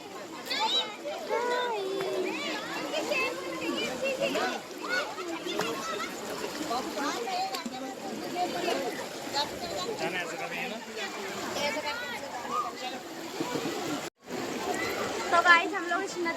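River water at Sahastradhara splashes and churns steadily as people wade across the stream, with lively voices talking and calling throughout.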